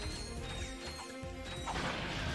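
Crates get smashed in the platformer Ratchet & Clank 2: Going Commando, with a quick run of cracking, splintering impacts over game music and ambience, faint under the mix.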